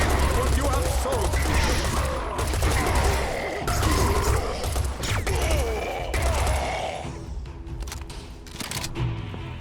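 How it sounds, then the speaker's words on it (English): Rapid assault rifle bursts in the shooter game Serious Sam 4, loud and close, with dense chattering fire through most of the stretch and talk mixed in before the shooting thins out near the end. "so far the assault rifle is not too bad"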